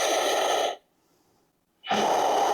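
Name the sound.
deep breath during yoga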